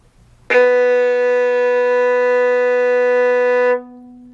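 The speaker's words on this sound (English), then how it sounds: "Play a B with me" A single low B is bowed on a violin's G string and sustained evenly for roughly three seconds before it stops. The note is full and close, with nothing else playing.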